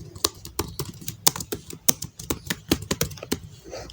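Rapid, uneven clicks of a computer keyboard as text is typed into a shape in Microsoft Word 2019, close and crisp with short pauses between bursts of keystrokes.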